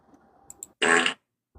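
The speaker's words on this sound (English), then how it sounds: "Why are you playing fart noises?" A played fart noise sound effect, one loud buzzy blast of about a third of a second, preceded by faint background sound and a couple of small clicks.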